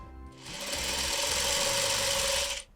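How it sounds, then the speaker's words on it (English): A quilting sewing machine runs in one continuous stitching burst of about two seconds, a loud, close, fast mechanical whir that starts and stops cleanly. "You're a good machine. Please be nice to me. No more thread breaks."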